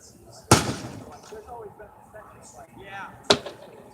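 Two sharp crashes of televisions being smashed at a 2018 TV drop event at Asbury University, one loud near impact early and another later, with people talking in between.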